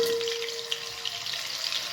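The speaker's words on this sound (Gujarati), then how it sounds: "તેલમાં આપણે બટર એડ કરીએ." Butter added to a few spoonfuls of hot oil in a pan for dal makhani gives a soft, even sizzle and fizz close by, with a faint steady hum under it and small pops near the end.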